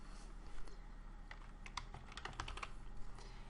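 Soft keyboard clicks type out a short name, sparse taps at first and then a quicker flurry of keystrokes, close and quiet over a low steady hum, with no talking.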